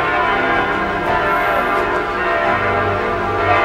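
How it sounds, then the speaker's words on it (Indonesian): A cathedral bell in Paris rings out in rich, sustained tones, the overlapping strikes blending into a continuous metallic hum that stays loud and full without any voices. "kebetulan di katedral itu bel loncengnya lagi berbunyi"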